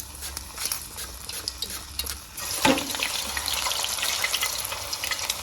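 Raw potato slices for chips go into hot oil, and a continuous bubbling sizzle rises sharply as they drop in. It stays loud and crackling, with a brief splash near the middle.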